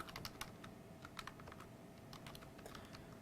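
Quiet, fast typing on a computer keyboard, a string of soft irregular key clicks over a faint background hum.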